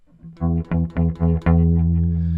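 A deep, plucky bass-like guitar note, the 7th-fret E on the 2nd string pitched down an octave, plucked several times in quick succession, then one final note left ringing and sustaining, loud and close.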